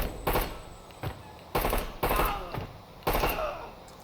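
Bursts of gunfire during a room-clearing breach in Door Kickers 2, arriving as four or five sharp separated volleys about half a second apart, close and loud over a low background hum.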